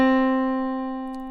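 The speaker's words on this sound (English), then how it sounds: "So a middle C sounds like this." A single sustained middle C note with a clean, steady tone and rich overtones, slowly fading over just over a second, alone with no talking.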